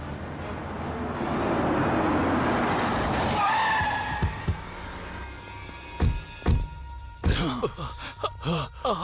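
A car pulls away under a long engine roar and tire skid, followed by sharp thuds and clatter as it speeds off in a Hindi-dubbed South Indian action film.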